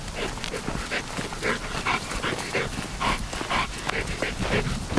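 Working dog panting close up, a continuous rhythmic run of quick breathy pants at moderate loudness, no voices.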